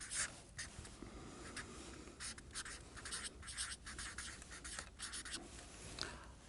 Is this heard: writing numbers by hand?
yes